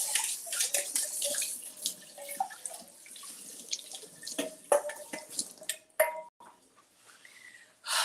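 Peaches rinsed under a running kitchen tap: a steady stream of water splashing close by, broken by irregular drips, pings and clatters as the fruit is handled.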